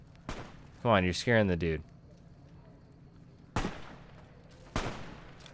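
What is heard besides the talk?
gunfire from enemies in the video game Fallout: New Vegas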